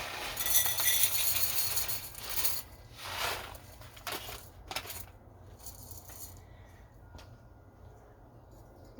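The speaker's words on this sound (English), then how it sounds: "Here's my metal pot." A metal pot clinks and scrapes as it is handled outdoors in a backyard, several sharp metallic knocks in the first half, then quieter rustling with occasional faint clinks.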